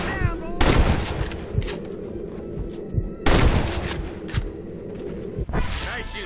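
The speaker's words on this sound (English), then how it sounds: "Nice shooting, boy." Gunfire in the Western video game Red Dead Redemption: two loud broadband bursts of shots roughly three seconds apart over a dense background of game ambience and music, with a sharp crack near the end.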